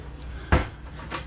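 A drawer aboard a Princess F45 motor yacht slides and shuts with one firm thump, followed moments later by a softer second knock, close up in a quiet cabin.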